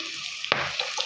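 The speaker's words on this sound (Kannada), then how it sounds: "ಇದು ಎಷ್ಟು ಚೆನ್ನಾಗಿ ಫ್ರೈ ಆಗಿದೆ" Okra dry-frying in hot oil in a pan gives a steady bright sizzle, with a sharp crackle partway through and a few small pops near the end. The burst is brief and no one speaks over it.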